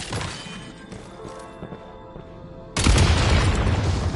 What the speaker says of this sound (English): Shoot the explosives to detonate them and clear the path.